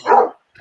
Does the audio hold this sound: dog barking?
yes